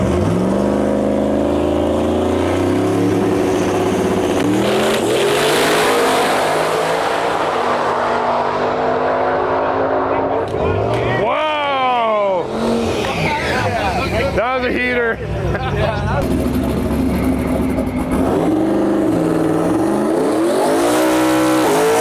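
A roughly 1,700 wheel horsepower no prep drag race car roars at a drag strip, loud revving and sweeping engine pitch rises over a crowd's babble, with bursts of acceleration cutting through the noise.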